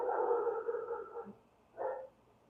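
A dog gives two drawn-out, tonal barking calls. The first is long and the second is shorter after a brief pause. Both are moderately faint, with no talk.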